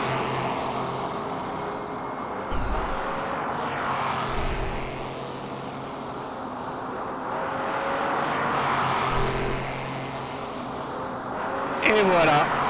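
Ferrari 250 Testa Rossa from 1957 in the racing sim rFactor 2, its engine droning steadily with rising and falling revs over the whole stretch, loud and continuous with occasional louder surges.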